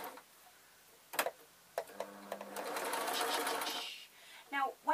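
A sewing machine stitches a lined waistcoat in short bursts, a fast whirring rattle building and stopping between taps and handling noises, close and moderately loud.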